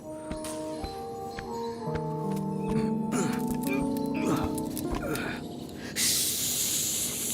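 A voice imitates a snake's hiss with a sharp, loud, breathy burst near the end, after a stretch of music and movement sounds.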